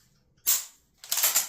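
Two sharp mechanical clicks from a Beretta A300 Ultima shotgun during a safe-and-fire function test after reassembly, the second click rougher and longer, close and loud with no talking.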